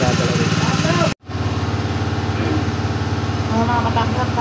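A grass cutter engine runs steadily nearby with a constant buzzing drone, briefly cutting out for a moment before resuming, while a person talks over it.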